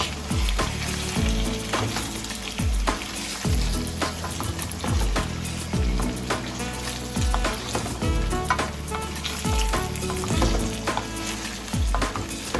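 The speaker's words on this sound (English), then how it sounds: "Be as gentle as possible to mix it with the seasoning and the saltfish." Ackee and saltfish is stirred gently with seasoning in a pan, giving a loud, steady sizzle with repeated soft scraping and thudding strokes about every second, close up and without talking.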